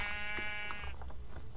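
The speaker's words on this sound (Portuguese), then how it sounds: "Ovelha, galera." A single sheep bleat from Minecraft, a clear wavering tone close and loud, fading out after about a second.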